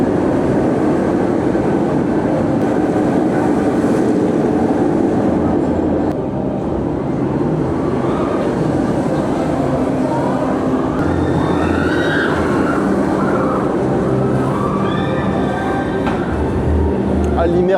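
A coal-fired steam train rolls through a city park with a loud, continuous rumble and clatter, and whistle-like tones rise briefly near the end, while voices are heard faintly in the background.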